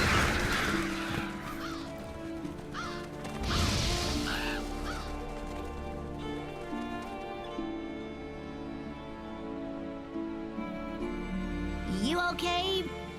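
Revolture scavenger birds in Monster Hunter: World squawk and honk in a harsh, goose-like way over a game music and ambience bed, with louder bursts near the start and again near the end.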